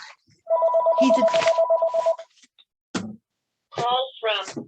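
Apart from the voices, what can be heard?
telephone ringing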